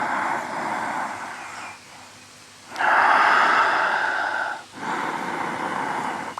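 Slow, deep yoga breaths, long airy inhales and exhales alternating with short pauses, close and fairly loud, no speech.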